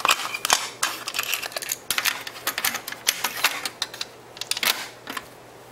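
Cassette deck on a Panasonic SA-AK25 CD stereo system being operated, a loud run of sharp mechanical clicks and clunks from buttons and the tape mechanism, irregular and close.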